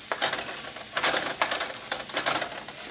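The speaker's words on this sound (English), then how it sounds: "start stirring it in so you can get a sense of how much" Shredded cabbage is stirred into chicken lumpia filling, quiet scraping and rustling strokes in a steady rhythm with a faint sizzle beneath, no talking.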